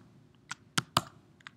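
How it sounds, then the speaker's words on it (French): The Command and Enter keys pressed on a Mac keyboard give a few close plastic clicks, two sharper presses standing out among lighter taps, in a quiet room. "il y a même un raccourci clavier qui est de peser sur un Mac sur commande et sur Enter"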